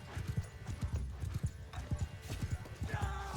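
Horse hooves clip-clop in a steady, fast rhythm in Mount & Blade II: Bannerlord, near and prominent over a rumbling battlefield din.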